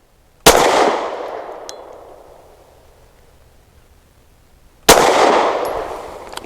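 Two loud, sharp shots from a Taurus TS9 pistol firing 9mm 115 grain rounds, several seconds apart, each followed by a long ringing decay outdoors.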